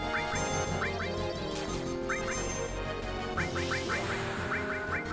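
Honking from a goose in Final Fantasy VII comes in short clustered bursts, several quick calls at a time, scattered across continuous game music and effects.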